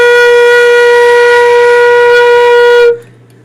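A single sustained B-flat held on a flute, steady and loud with a pure bright tone for about three seconds before it stops abruptly, leaving quiet room tone.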